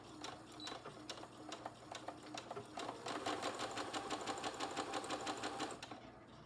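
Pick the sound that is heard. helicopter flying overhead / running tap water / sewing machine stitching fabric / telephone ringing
sewing machine stitching fabric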